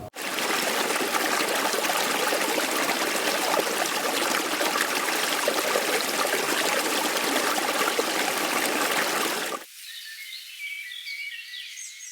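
River water flows and rushes loud and close for about ten seconds, then suddenly gives way to quieter chirping birds.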